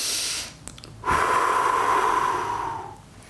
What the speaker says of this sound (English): I can only breathe through my nose. And you do big, deep breaths